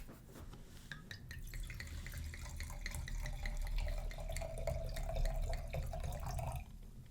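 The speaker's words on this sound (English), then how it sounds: "As you pour the wine, you feel all of your stress melting away. Just listen as the wine pours." Wine pouring into a glass, a close, continuous liquid gurgle and trickle with a faint rising ringing tone as the glass fills, then stopping near the end.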